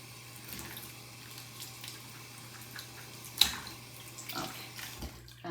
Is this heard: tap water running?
yes